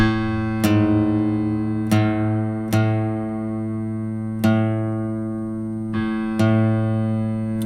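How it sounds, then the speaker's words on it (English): A single piano A note struck five times at slow, uneven intervals, each ringing out clearly and decaying before the next, with no voices. "Next is the A note on the piano"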